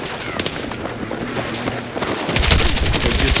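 Gunfire in Battlefield 6 while the player slides and shoots, a dense rattle of rapid shots that swells louder and fuller toward the end, with no talking over it.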